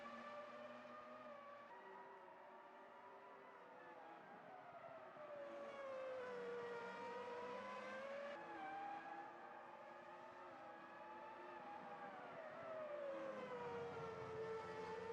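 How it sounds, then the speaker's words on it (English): Formula One Ferraris in a racing video game at the Spanish Grand Prix, high-pitched engines whining and shifting pitch continuously as the cars battle for position, steady and sustained with no talk. "the two Ferraris are battling it out for position"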